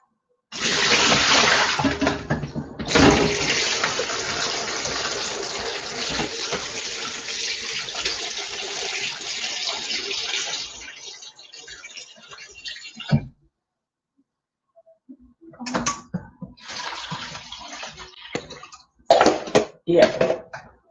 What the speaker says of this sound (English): So we just wash it once more.